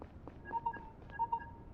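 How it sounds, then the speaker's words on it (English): A phone rings in the video game Lacuna: two short, faint electronic trilling bursts with a pause between them, over a quiet background. "Uh-oh. Phone call."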